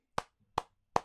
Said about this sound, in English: yes, I'm clapping, yes